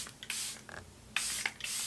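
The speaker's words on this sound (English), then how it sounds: "So let me just go ahead and spray it on." Charlotte Tilbury setting spray misted from a bottle in several short, close hissing bursts with brief pauses between them, with no one talking.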